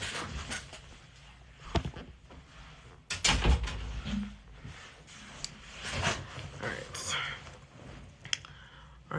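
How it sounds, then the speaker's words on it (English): A door is pushed shut indoors with a single solid thud partway through, set against low background rustling and faint breathy voice sounds. "let me go close that door."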